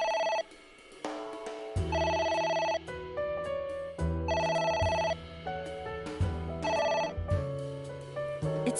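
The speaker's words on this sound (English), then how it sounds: "It won't stop ringing." A telephone rings insistently in the video game AI: The Somnium Files, with repeated bursts of bright, bell-like electronic ringing separated by short gaps.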